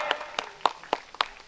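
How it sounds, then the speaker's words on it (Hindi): Sparse applause for parents at a welcome event, a handful of separate claps spaced a fraction of a second apart, close and fairly loud. "इनके लिए हम समझते हैं बहुत ताली होनी चाहिए हमारे अभिभावक के लिए"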